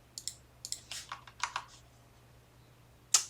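Close computer-keyboard typing of an email address: quick clusters of crisp keystrokes in uneven bursts, then a brief pause and one last sharp key press, with no talking.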